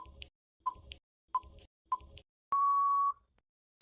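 Four short beeps sound at even intervals before one longer, steady tone, the clean electronic pattern of a countdown timer starting, with nothing else heard.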